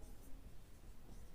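Pen or chalk writing out a math solution for a trigonometry identity, faint scratchy strokes running continuously at low level, no voice.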